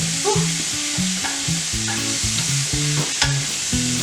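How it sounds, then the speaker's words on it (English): A pot of collard and mustard greens with a turkey neck is stirred over the heat, giving a continuous sizzle with repeated scraping strokes at a steady rhythm and no voices. "Look, come on in here and stir the pot."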